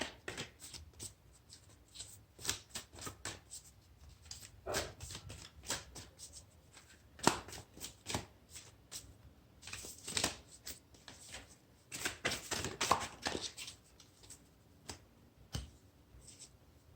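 A deck of Postcards of Spirit oracle cards is shuffled by hand close up, with quiet repeated riffles and soft slapping card flicks in irregular bursts.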